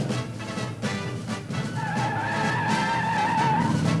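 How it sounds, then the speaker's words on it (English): A 1971 AMC Javelin SST with a 3-speed automatic launching hard off the line on Goodyear E60 15 tires, engine roaring steadily with tire squeal rising over it, loud and close, no voices. "Our Javelin wasted no time coming off the line."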